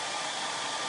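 A hair dryer blows steadily and loudly, a constant breathy whoosh quick-drying a decoupage pillow, with no voices over it.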